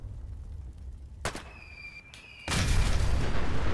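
A mini nuke fired from the Deliverer pistol in Fallout 4 goes off as a sharp crack, followed by a tonal whine and then a heavy, sustained booming roar that stays loud to the end.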